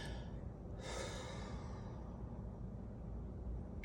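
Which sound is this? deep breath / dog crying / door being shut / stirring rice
deep breath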